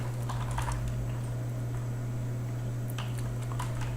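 Keys on a computer keyboard tap in quick, light clusters, close and fairly soft, over a steady low electrical hum, with a brief flurry near the end.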